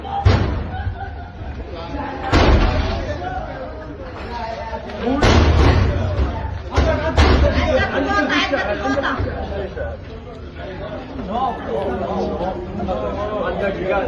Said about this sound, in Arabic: شنو دابا باغي زعما يهرس الباب بالحجره؟